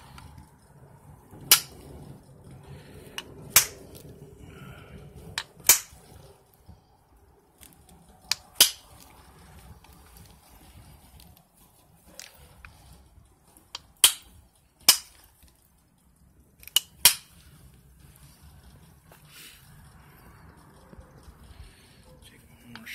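Overshot pressure flaking on stone: sharp, isolated cracking snaps as flakes pop off, a dozen or so spaced irregularly over a quiet background with faint handling noise.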